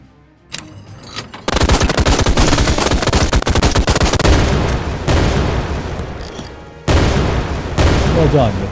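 A called-in strike in the VR shooter Out of Ammo brings sustained, loud automatic gunfire and heavy blasts that roll on for several seconds, with brief dips between bursts.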